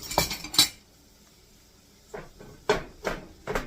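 A utensil chops and breaks up hamburger meat in a pan, making several sharp metallic clacks and scrapes in uneven bursts, with a quiet gap in the middle before a quicker run of knocks.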